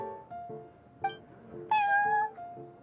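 A cat in Genshin Impact, looking after customers at the Cat's Tail, gives several close, clear meows, a few short mews and then one longer rising call, heard alone over quiet game background.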